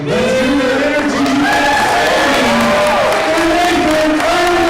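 Crowd at a live yo-yo contest cheering and whooping as a performer is introduced, a dense, loud wall of voices with rising shouts layered over music, sustained throughout.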